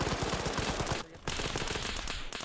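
Rapid automatic gunfire from the military shooter game Arma 3 during a special forces operation, a loud, dense burst of rattling shots, briefly broken by a short gap before resuming.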